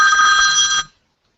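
A telephone rings once, a bright electronic trill held for under a second before cutting off into silence.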